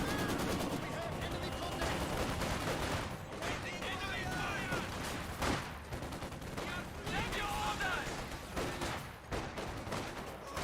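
Volksgrenadier infantry trading rifle and machine-gun fire in a Company of Heroes 2 battle, a dense, continuous crackle of overlapping shots throughout with occasional heavier bursts and a voice talking over the action.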